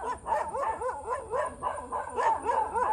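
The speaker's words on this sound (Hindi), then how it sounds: "बाकी डॉग्स भौंक रहे हैं के अंदर से।" Several village dogs barking in a rapid rhythmic string of yips and bow-wows, moderately close, with whimpering pitch swoops between barks and no talking.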